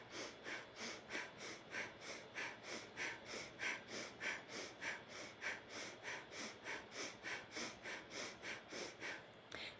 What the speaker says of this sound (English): push the air out with your diaphragm and just the air will naturally come back in, but this time we're only breathing through the nose